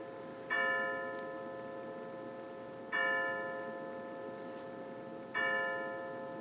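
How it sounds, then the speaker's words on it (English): A clock chimes five o'clock: bright, ringing bell strikes land about every two and a half seconds, each fading slowly, over a steady background hum indoors. "the clock is chiming 5 o'clock right now"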